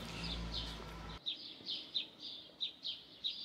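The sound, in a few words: blackbird calling in a garden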